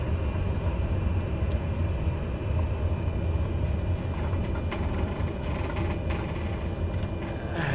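Continuous cabin rumble of an airliner rolling off the runway in a flight simulator game, a steady low drone with a few faint clicks and brief higher tones scattered over it, no voices.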